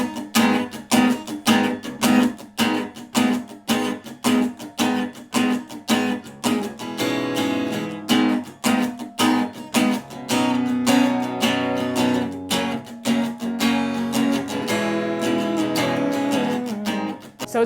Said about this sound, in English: So this guitar is actually in C sharp.